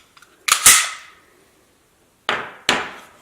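Sig Sauer P320 pistol being disassembled, giving sharp metallic clacks of slide and parts: a close double snap, then two more crisp clicks a couple of seconds later, with quiet between and no talk.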